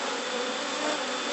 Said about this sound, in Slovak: Vidíme, že ani veľmi dymak nepotrebujeme, včelstvo je už relatívne kľudné.